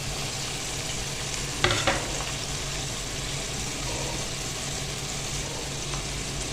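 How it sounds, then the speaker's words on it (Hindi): Sliced green chillies, onion and capsicum sauté in a pan with a constant, even sizzle, and a brief clatter of a stirring utensil early on, close and steady. "इन वेजिटेबल्स को हमने थोड़ा सा सौटे कर लेना है ताकि इनमें भी कबाबों की खुशबू आ जाए"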